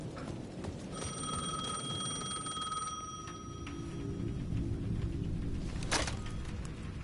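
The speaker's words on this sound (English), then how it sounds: "The payphone at the edge of the plaza was ringing again." An old-style payphone bell in the video game Alan Wake 2 rings in a couple of bursts over a low ambient hum, with a sharp clatter near the end.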